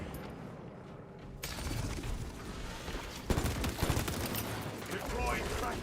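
Rapid heavy plasma gun fire from the game Space Marine, a dense crackling barrage that kicks in after a quieter moment and keeps going loud and steady, with faint in-game voices underneath.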